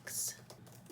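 A short burst of bright key clicks from a 2020 13-inch MacBook Pro keyboard, one sharp cluster at the start followed by a few softer taps, close and quiet.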